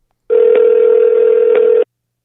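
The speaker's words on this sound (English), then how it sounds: "let's give her a ring" A single long electronic telephone ring tone on an outgoing call, one steady tone of about one and a half seconds, loud and close, starting and stopping cleanly in silence.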